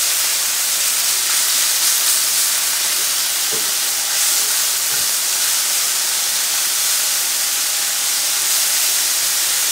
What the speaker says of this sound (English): Alright, mushrooms are starting to cook a little bit.